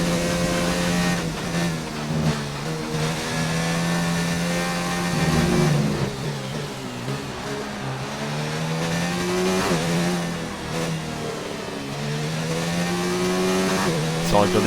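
A Formula 1 car engine from the F1 2019 racing game whines steadily at high revs, its pitch rising and falling through gear changes, loud and continuous with faint talk underneath.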